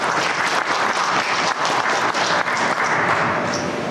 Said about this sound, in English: So let's give them a hand.